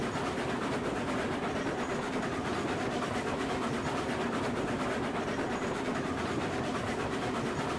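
A steam-era locomotive and its cars rumble along the rails in the Railroads Online game, a dense steady roar with faint rhythmic clatter throughout and no talk.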